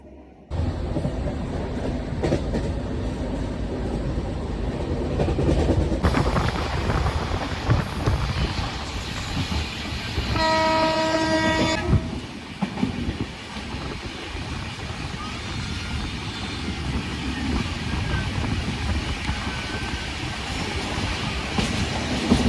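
Himsagar Express rumbling along, heard from inside a general coach: a continuous loud clatter and roar of wheels on rails, with a brief tonal whine partway through and wind noise.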